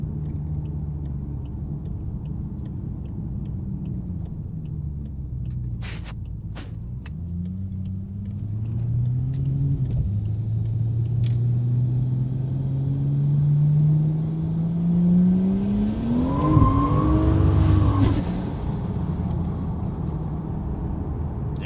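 A modified car engine on a drive, a steady droning rumble whose pitch climbs and drops through gear changes, with a louder revving swell near the end.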